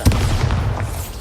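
Bombarda blasting spell exploding in the video game Hogwarts Legacy, a loud, deep booming blast with a sharp onset and a rumbling tail sustained through the short moment.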